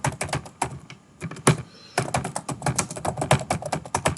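Rapid, close computer-keyboard typing while writing a C++ program, dense irregular keystrokes running throughout with a brief lull partway, no voices.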